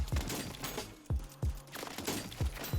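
Striker 9 fired rapidly in single-fire mode in Warzone 3, a quick run of sharp, punchy shots in an uneven rhythm, close and loud with no talking.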